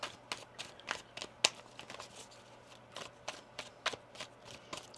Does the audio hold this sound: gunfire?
no